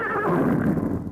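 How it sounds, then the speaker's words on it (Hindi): A tethered horse that has just pulled out its peg gives a loud, close whinny, a short shaking neigh that rises and then fades over about a second. "तुम उस घोड़े को संभालो। अरे उसने खूंटा उखाड़ लिया है।"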